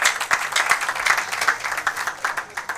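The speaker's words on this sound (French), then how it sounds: "Acclamons pour la gloire de notre Dieu" A church congregation applauds during a worship service, steady mixed clapping from many hands sustained throughout at moderate loudness, with no talk over it.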